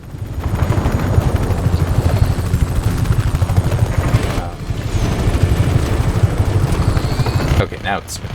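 A helicopter in the Just Cause 3 video game roars continuously and loudly, dense rotor and engine noise under sporadic gunfire-like bursts, with a brief dip midway and a sharp transient near the end.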